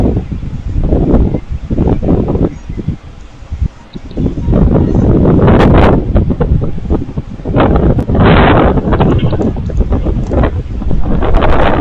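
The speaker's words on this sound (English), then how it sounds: "Turn down the wind." Strong wind buffets the microphone in continuous roaring gusts, loud and close, with rushing noise rising and falling and no voices.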